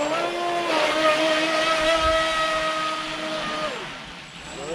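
A Volantex V792-4 RC speedboat on a 3S LiPo runs steadily across the water, its high motor whine holding pitch and then dropping as it pulls away, loud and close with no talk.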